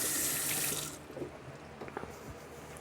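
Apples are rinsed under a running kitchen tap, a steady hiss of flowing water into a sink that softens after a second into splashing and trickling as the fruit is handled.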